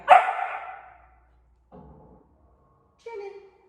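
A dog barks once, loud and close, then gives two shorter, quieter yelps in a quiet room.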